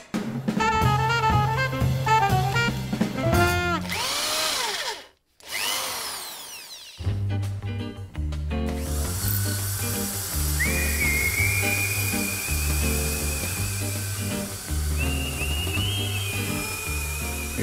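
A power tool whines while cutting thread onto a small bolt or piece of iron, its pitch rising and falling in bursts with brief pauses and a sustained high whistling tone later, loud and close without talk.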